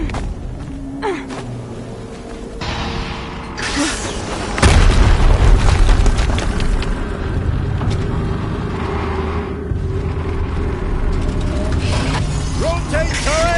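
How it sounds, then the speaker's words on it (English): A video game explosion in Horizon Zero Dawn on PS4 lands as a loud boom amid mechanical clanking and whirring machinery, with the rumble lingering and a voice speaking over parts of the action. "Another explosion."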